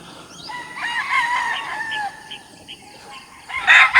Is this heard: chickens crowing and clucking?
yes